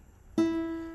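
The open high E string of a guitar is plucked once, ringing out as a clear, fairly high single note that lingers and fades slightly.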